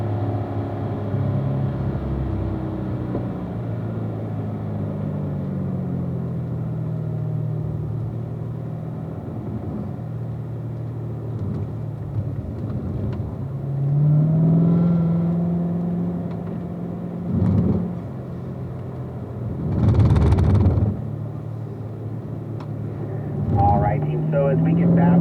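A Corvette laps a race track at a driving school, its engine rumbling steadily from inside the car while an instructor talks over it. Surges in revs and a few sharper bursts rise above the drone.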